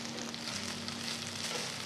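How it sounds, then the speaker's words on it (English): Chopped coriander leaves sautéing in a pan, a steady close sizzle and crackle running evenly throughout with no talking. "Just saute the leaves together for about 2 to 3 minutes till they're all wilted."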